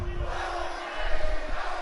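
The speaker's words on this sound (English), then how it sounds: "A lot of people are booing Bobby" Virtual arena crowd in WWE 2K18 booing wrestler Bobby Roode, a dense, loud roar of jeers and shouting that swells briefly near the middle.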